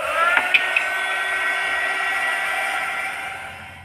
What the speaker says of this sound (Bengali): দেখো আজকে যে হিটটা দিব, এটা হলো একটা হিটার মেশিন